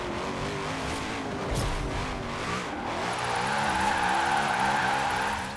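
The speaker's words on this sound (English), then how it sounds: "Time to do some drifting." Car drifting in a video game on Fortune Island, a steady engine roar with rising and falling revs and a faint tire squeal, loud and continuous with no talk.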